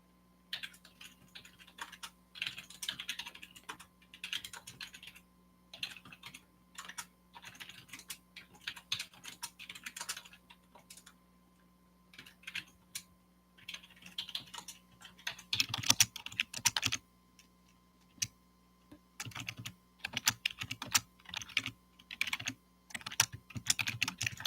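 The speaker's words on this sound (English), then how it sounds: "I'm going to type out something real quick" Quick bursts of keystrokes clatter on a computer keyboard while a document is written in Word, close and crisp, coming in irregular runs with brief pauses between words and a low steady hum underneath.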